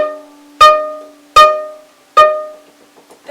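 Three separate out-of-tune open D notes bowed on a viola sound in steady succession, each attack loud and then decaying, with a faint trailing note at the end.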